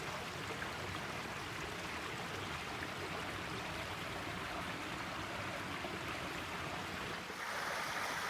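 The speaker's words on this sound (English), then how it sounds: "And you can hear the babbling brook and see the water down there." A babbling brook on a farm in early spring, running along a creek lined with trillium, gives a continuous, even rush and burble of flowing water from close by, with no voices.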